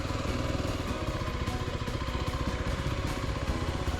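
A dual sport motorcycle engine runs at low speed with the clutch feathered during slow maneuvering. It gives a continuous, loud, close mid-pitched throb with a steady pulsing beat and a slight clatter, and no voices.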